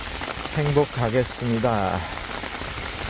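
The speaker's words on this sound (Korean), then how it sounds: "오랜만에 정말 비가 와서 기분이 참 좋습니다" Steady rain patters on the ground at night under lights, a soft, even hiss that runs beneath a person talking.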